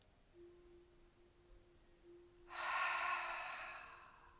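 A soft breath drawn in then released audibly during a slow foot exercise, a gentle airy exhale lasting about a second over a quiet room with a faint steady hum.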